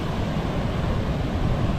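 High surf on a blue-water beach in Kauai, heard as a steady, broad roar of crashing waves mixed with wind rush, continuous and fairly loud with no voices.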